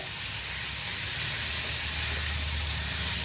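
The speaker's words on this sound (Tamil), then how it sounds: "அதுக்கு வந்து கடுகு தாளிச்சிருக்கேன். அது கூடவே கொஞ்சமாக உளுத்தம்பருப்பு போட்டுக்கிறேன்." Mustard seeds and urad dal tempering in hot oil give a steady, fairly loud hissing sizzle that carries on without a break from start to finish, with no voices.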